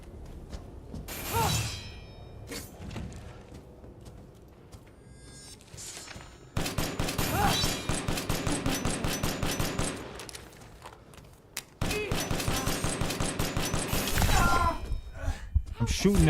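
Rapid gunfire shooting swarming bugs in Resident Evil Village, a few scattered shots early on, then long loud bursts of regular, evenly spaced shots with brief pauses between them.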